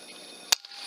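A single sharp air rifle shot striking a target, one short crack followed by a faint secondary tick, heard alone over a quiet background hum.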